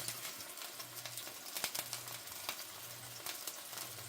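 Pork chops sizzle as they go into a frying pan for a herbed tomato sauce dish, a steady crackling fry with sharp pops and spits throughout, close and moderately loud, with a low hum running underneath.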